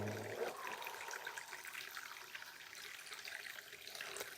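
Water flows and trickles steadily in a calm outdoor setting, a soft continuous gurgling wash with no talking over it.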